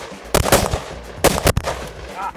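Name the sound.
gunfire from Bren 2 rifle shooting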